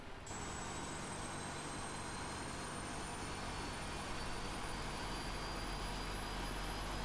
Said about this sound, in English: there goes engine 2 starting and fueling